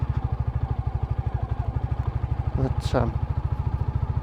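Royal Enfield Classic motorcycle riding off-road over bumps, its single-cylinder engine thudding in a steady close rhythm with a brief clatter near the end, while someone talks over it.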